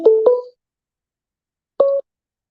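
A few touch-tone dialing beeps as phone lines open on a radio show: two quick tones back to back, a pause, then one more, clean and with no talk over them.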